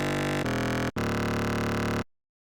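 Xfer Serum FM bass synth in the key of D: two loud, dense, buzzing sustained notes, the first shifting in tone partway through, then a brief gap, a second long note and an abrupt cutoff into silence.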